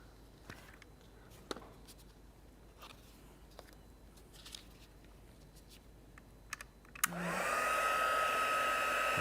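Scattered quiet clicks and taps give way to a hair dryer switching on near the end and blowing steadily and loudly, drying watercolour paint.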